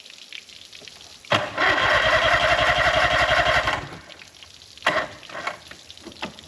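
An old boat engine that has sat unused for three years cranks and catches, roaring loudly for a couple of seconds before dying away, followed by a few weaker sputters and bursts as it fails to idle.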